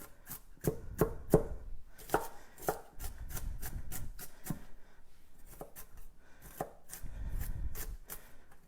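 A knife chops celery into small pieces on a cutting board, giving a series of sharp, close taps in irregular bursts, some quick runs of strokes and some single hits, with no talking.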